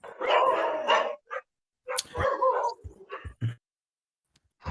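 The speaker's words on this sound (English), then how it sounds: "whose dog can we hear?" A dog barks a few times in the background of an online meeting, mostly in short bursts mixed with people talking nearby.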